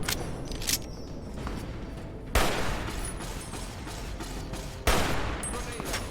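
Gunfire in Fallout: A Tale of Two Wastelands, with two sharp loud shot bursts over a steady noisy wash of continuous fire and combat, the reports standing out at regular intervals.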